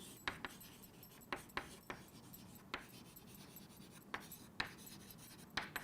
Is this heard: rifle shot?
no